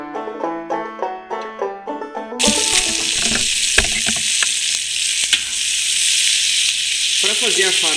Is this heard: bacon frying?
yes